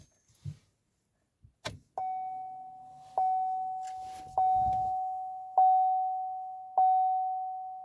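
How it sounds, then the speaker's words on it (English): A 2015 Chevrolet Silverado warning chime repeats five times at a steady pace, each loud bright tone fading gradually before the next strike, after a couple of brief clicks. "I have nothing against the GM chime. I actually quite like it, but on this particular vehicle,"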